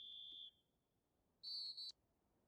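A referee's whistle in a college football video game sounds two bright, steady blasts, a half-second one followed by a slightly longer one a second later.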